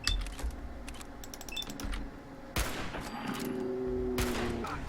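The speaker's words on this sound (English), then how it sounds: "That's also a turret gun." Automated turret gunfire rattles out in quick bursts of sharp clicks and cracks amid game ambience, with a louder shot at the midpoint, in the Fallout 4 video game.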